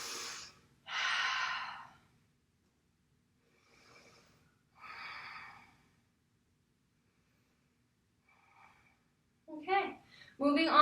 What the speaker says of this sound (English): Let's take 3 breaths here.